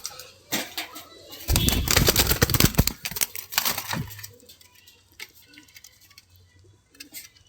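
Pigeons in a loft, a female satin pigeon and a male muthina pigeon, with a burst of wing flapping and scuffling up close, then quieter rustles and faint coos.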